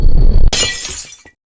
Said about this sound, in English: the portal shatters